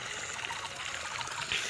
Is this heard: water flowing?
yes